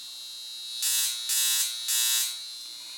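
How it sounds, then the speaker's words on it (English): A high frequency skin treatment device gives off a steady electrical hum that swells louder in three bursts, each lasting about half a second, over a constant buzzing background. "It makes an electrical sounding hum."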